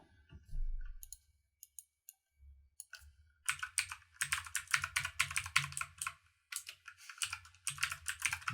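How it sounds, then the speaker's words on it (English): Username typed on a computer keyboard to sign in to a Scratch account: a few isolated key taps, then a dense run of rapid clicking keystrokes, close and fairly quiet, with no talking. "And type his very cool username."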